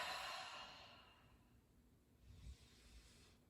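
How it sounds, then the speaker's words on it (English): A long, breathy exhale during a yoga cleansing breath, close and soft, fading over a second or so, followed by a quieter inhale; no speech. "Cleansing breaths here, exhale, inhale."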